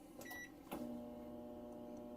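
An RV's built-in microwave oven runs with a steady low hum and a faint mechanical whir, starting after a brief click and thump and holding evenly and close by.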